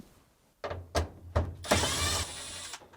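A Phillips screw being backed out of a Fisher & Paykel clothes dryer, with a few short mechanical clicks and ratcheting bursts followed by a longer scraping whir, close and fairly loud, with no talking.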